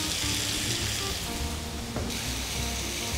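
Chicken pieces cook in a hot pan with a steady, close sizzle and crackle that runs throughout, loud and unbroken.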